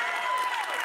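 Late-night show audience cheering and applauding steadily throughout, a dense continuous wash of crowd noise with no talk over it.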